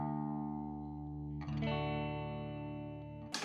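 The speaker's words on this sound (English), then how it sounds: "So the low E sounds like this." A guitar's low E string detuned a whole step to drop D for a rockabilly song, rung out as a sustained low note, then a second plucked note that rings on alone.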